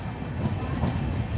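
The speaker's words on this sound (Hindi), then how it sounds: "आगे 1 नंबर प्लेटफॉर्म पे अपनी अमृत भारत का अरेवल हो रहा है" Amrit Bharat Express train rolling in to platform 1 at a junction station, a steady low rumble of railcars, close and continuous, with a voice talking over it.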